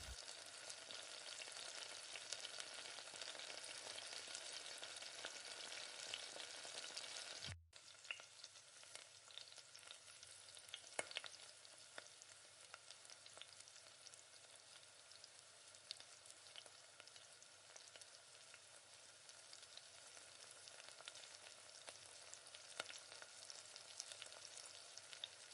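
Egg frying and being stirred in a pan while making a drumstick-leaf poriyal, a continuous close sizzle with faint scraping stir strokes and a brief break partway through, no talking.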